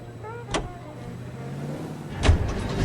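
Car driving in the video game L.A. Noire, a steady low engine drone running under the whole stretch, broken by two short bright whooshing bursts from passing traffic or the car's movement.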